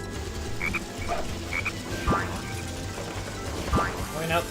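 Frog croaks from the Sonic Heroes video game, short chirpy calls repeating a few times over game background sound, with a couple of springy sliding effects mixed in.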